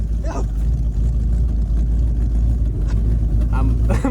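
An abandoned 1970 V8 Ford Mustang drives along with a loud, steady engine roar that sits close and constant throughout, briefly rising as the throttle opens, while voices shout over it.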